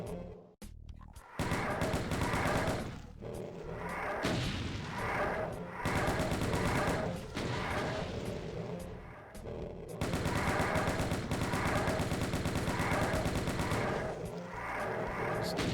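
Enemy gunfire in the video game Doom II rattles almost continuously, dense and loud, with booming impacts layered through the barrage and only brief dips between volleys.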